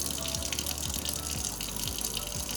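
Tap water runs steadily into a sink while a child's face and hands are washed, a continuous close splashing gush with no talk.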